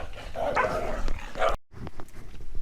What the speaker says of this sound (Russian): ну и нас окружили собаки